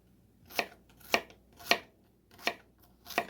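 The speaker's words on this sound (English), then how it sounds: "I just chop them up." A knife cuts onions into big chunks on a board for dehydrating, five crisp evenly spaced chops about half a second apart, close and alone with no talk.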